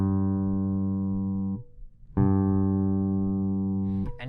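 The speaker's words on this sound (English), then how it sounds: "So this is what the G string sounds like with no EQ added." A bass guitar's G string, its highest, plucked with no EQ applied: a sustained harmonic-rich note rings for about a second and a half, fades, then a second note is struck and held, ending with a brief fret noise.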